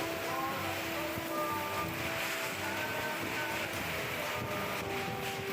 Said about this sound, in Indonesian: Inilah detik-detik terjangan angin puting beliung yang menerjang permukiman warga di wilayah Ningas, Waru, dan Tulangan, Sidoarjo, Jawa Timur